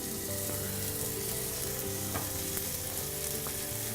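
A fatty cut of meat sears skin side down in a dry pan, giving a loud, continuous sizzle and crackle with a few sharper pops.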